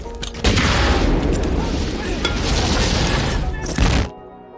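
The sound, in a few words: explosion of a thrown rocket in a war film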